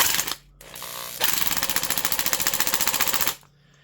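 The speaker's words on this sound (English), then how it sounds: "it is kind of cool to have a corded variable speed impact wrench" A Craftsman Commercial corded 1/2-inch variable-speed Adjusta-Torque impact wrench fires in a rapid, loud hammering rattle, first a short burst, then a steady run of evenly spaced impacts for about two seconds before stopping.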